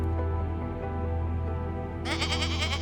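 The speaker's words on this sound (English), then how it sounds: "The mountain goat is not a common goat." A wild mountain goat in Canada gives a loud, close, drawn-out nasal bleat that rises into a higher, wavering cry near the end, heard alone.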